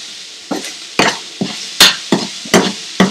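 Sliced onion with salt being tossed in a hot frying pan, seven sharp scraping stirs about half a second apart over a soft sizzle, close and fairly loud.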